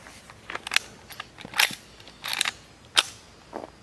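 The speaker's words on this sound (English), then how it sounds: "let's quietly take a couple more shots" A suppressed lever-action rifle with a 12-inch barrel fires muffled, dull cracks mixed with crisp mechanical clicks of the action, several short sharp bursts spaced irregularly and heard up close.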